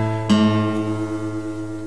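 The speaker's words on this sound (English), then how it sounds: "take your picking hand and tune the A string." A guitar A string is tuned against the low E string held at the 5th fret. Two notes sustain together and one is plucked fresh partway through, ringing clearly alone with a slight wavering beat.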